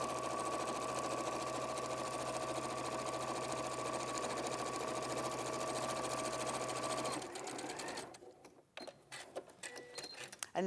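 A sewing machine runs steadily for several seconds, stitching lines across a bag's pockets, then stops, leaving scattered handling clicks and rustles.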